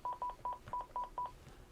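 Dialing tones from a Panasonic KX-TG175C cordless phone: six crisp keypad beeps in a quick, even sequence, close and clear with no talk.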